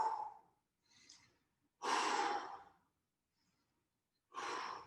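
Deep belly breaths taken during an adaptive fitness exercise class: three close, loud breathing sounds, an inhale, a long heavy exhale like a sigh and another breath, separated by quiet pauses.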